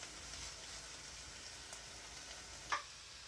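Cut potatoes sizzling and frying in a pan in a cottage kitchen, a soft steady crackle with one brief louder pop near the end, no talking.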